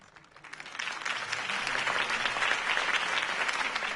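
A crowd breaks into applause that swells quickly and holds steady as a dense, sustained clapping.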